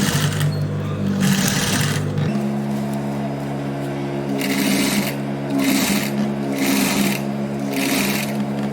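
Sewing machine stitching fabric for a child's garment, a loud rapid mechanical whirring in several bursts with brief pauses and a shift in motor tone partway through, close by.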